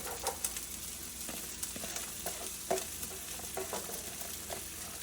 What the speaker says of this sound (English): Okay, the onions are nice and fried now, so next we're going to add the corn.